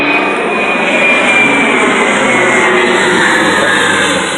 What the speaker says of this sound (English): I have no idea what kind of airplane that was, but that was freaking cool. It just flew over my house.